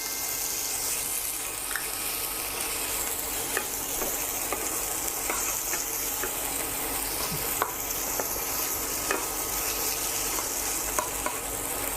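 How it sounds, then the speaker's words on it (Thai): Bacon frying in a pan with melted butter and garlic, a steady close sizzle with occasional clicks and scrapes of stirring throughout. "ผมใส่เบคอนตามลงไปนะครับ"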